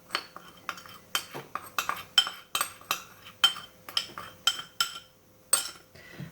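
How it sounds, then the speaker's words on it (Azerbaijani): A utensil scrapes and clinks against a bowl as cocoa powder, salt and dry ingredients are mixed for a Snickers cake, in a regular rhythm of about a dozen strokes, close and fairly quiet with no talking. "Və bütün bu ərzaqları birlikdə qarışdırırıq."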